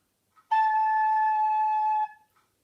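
A single sustained recorder note A, clear and steady, held for about a second and a half with a soft breathy onset, played alone.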